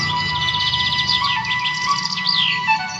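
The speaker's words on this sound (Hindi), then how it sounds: "तोता" Bright, rapid chirps and tweets of a parrot, a busy high-pitched run of calls lasting a few seconds, clear and close with a steady tonal hum beneath.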